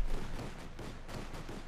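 Heavy gunfire in the Company of Heroes 2 battle game, a dense run of overlapping rapid shots and bursts, loud and continuous across a short stretch.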